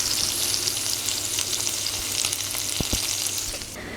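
Bacon bits sizzle and crackle in a pan, a steady bright frying hiss with a few sharper pops near the end, close by and with no talking.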